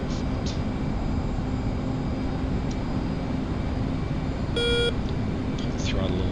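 F/A-18C Hornet jet in the DCS flight simulator over Syria, a steady dense engine roar filling the whole stretch, with a short electronic cockpit beep tone partway through.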